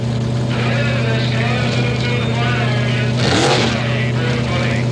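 A Dodge Omni drag race car idles with a steady low engine drone at an ET Superstakes drag race in 1984, and a brief revving surge rises near the end.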